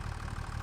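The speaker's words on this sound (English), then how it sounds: "So let's go ahead and turn this tractor off" A tractor engine idles in the video game Farming Simulator 25, a steady low rumbling drone with a faint rhythmic pulse, heard alone for a brief moment.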